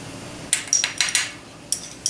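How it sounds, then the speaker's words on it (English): A spoon clinking against a bowl while sugar is stirred into soy sauce, a few sharp irregular taps and scrapes, close and fairly quiet with no talking. "And we're going to mix the 2 teaspoons of sugar into that"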